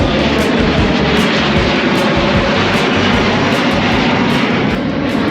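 An aircraft near an airport roars loudly and steadily in the foreground, a constant engine rush with no speech.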